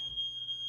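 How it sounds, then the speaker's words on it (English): A household smoke alarm sounds a steady, shrill high-pitched tone that holds unbroken for the whole moment, fairly loud against a quiet room. "someone set my fire alarm off."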